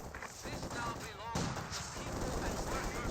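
Infantry gunfire in a Company of Heroes 2 battle, with Soviet and OKW squads exchanging fire: dense, continuous crackling shots and bursts of automatic fire run the whole time, with busy mixed battle noise behind them.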